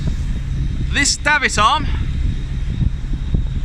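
Wind buffets a microphone on a boat deck as a constant low rumble all the way through, while someone speaks briefly over it at close range.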